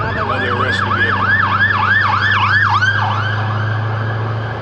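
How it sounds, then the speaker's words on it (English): Wailing siren of a passing rescue vehicle on a winding mountain road, loud and close with rapid rising-and-falling sweeps over a steady engine rumble, fading slightly toward the end. "Oh, it's another one. Another rescue vehicle."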